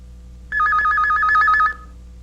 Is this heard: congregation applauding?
no